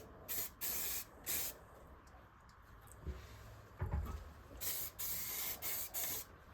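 Short bursts of aerosol spray paint hiss onto metal parts in cold weather, several separate blasts with brief pauses between, and a couple of faint knocks in the quieter gaps.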